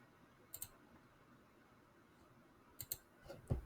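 Mouse clicks while downloading images in Photoshop CC 2020: a quiet pair of clicks near the start, another pair near the end, then a louder click cluster, over faint room hiss.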